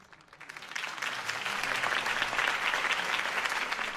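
Crowd applause at a campaign rally for Harvey Dent in the Batman Telltale Series game, a dense, sustained clapping that swells in over the first second and holds steady and loud, with no talk over it.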